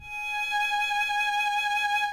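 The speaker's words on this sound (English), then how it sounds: "it's a G sharp, sounds like this" A violin sustains a single G-sharp in first position, one smooth unbroken bowed tone that swells slightly and holds steady for about two seconds, clear and alone.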